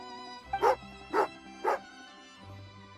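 Three short dog barks from a dog in the video game Genshin Impact, evenly spaced and fairly close, over a faint game music backdrop with no talking.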